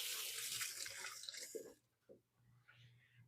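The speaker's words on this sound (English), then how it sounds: "let me wash my hands real quick" Tap water running into a kitchen sink as hands are washed, a steady splashing rush that stops after nearly two seconds, followed by a few drips and quiet handling sounds.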